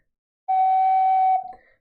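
An ocarina playing a G flattened by covering sub-holes: one sustained, slightly lower pure tone held about a second up close, ending in a short wavering trail with a faint higher blip, alone in silence.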